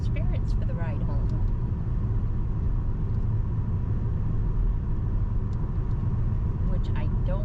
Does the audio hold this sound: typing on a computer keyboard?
no